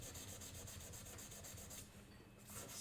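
Steady rasping strokes of abrasive on a violin bow, wood and ivory being blended and smoothed, a fast repetitive rubbing rhythm up close that pauses briefly before resuming.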